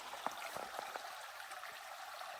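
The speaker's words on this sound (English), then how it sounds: "the creek is higher today" A creek running high after rising water, a steady broadband rush of flowing water with small splashy trickles and gurgles, fairly close and continuous with no talk over it.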